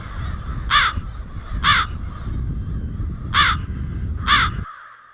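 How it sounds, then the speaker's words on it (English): Crows caw four times in evenly spaced, harsh calls over a steady low background rumble, with no one speaking. "Everybody knows the caw, caw, caw of the crow"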